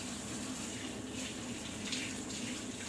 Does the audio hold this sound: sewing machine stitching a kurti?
no